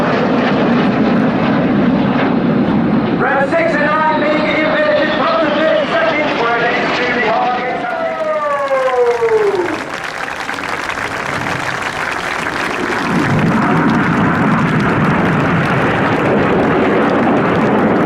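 Red Arrows jets performing a flying display at the RIAT air show, a loud sustained roar with pitch sweeping downward as they pass, then a broad wash of engine noise, with a commentator talking over it throughout.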